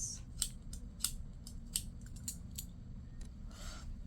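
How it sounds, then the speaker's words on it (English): A coloured pencil being sharpened: a quiet series of short, crisp scraping clicks at an uneven pace, ending in a longer, softer grinding rasp. No one speaks over it. "my pencil's not great. Let me sharpen this to make sure I'm working with a good surface."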